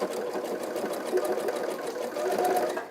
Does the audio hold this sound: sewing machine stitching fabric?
yes